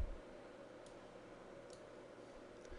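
Computer mouse clicks, three faint, sharp, evenly spaced taps over a quiet background hiss.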